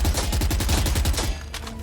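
Rapid automatic gunfire shoots through a wall in the Valorant video game, a loud, even burst of about a dozen shots that cuts off abruptly and leaves a faint trailing tail.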